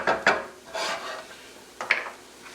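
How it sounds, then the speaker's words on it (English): Roughly chopped half of a small cabbage drops into a cooking pot, giving a few soft rustling clatters and scrapes, close and fairly quiet, with no talk over them. "The cabbage straight into the pot."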